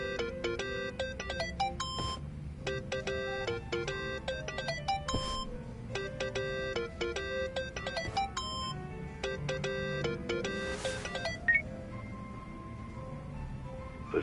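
Phone ringing in the video game Yakuza, a repeating electronic ringtone melody played in several bursts with short pauses, steady and fairly loud over a low game background hum.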